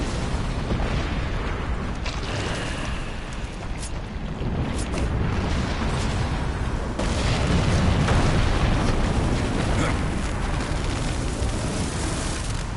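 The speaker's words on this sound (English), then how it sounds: "you need to use the bombs" Bombs explode in the action game Darksiders 2, giving a loud, dense wall of booming blasts and crackling debris that roars on steadily throughout without pause, no voices.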